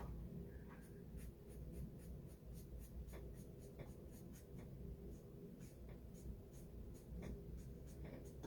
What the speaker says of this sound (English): I like to use blending stumps. I blend it in to cover the paper.